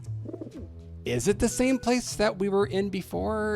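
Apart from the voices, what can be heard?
pigeon cooing in the video game Grim Fandango Remastered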